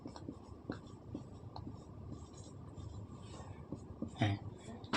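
Writing on a board during a class 11 maths lesson on sets; short scratchy strokes come and go under a teacher's voice talking nearby.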